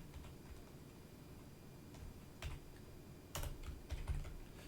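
Code being typed on a computer keyboard: quiet, uneven key taps in short bursts over low room hiss, with a few louder clustered clicks toward the end.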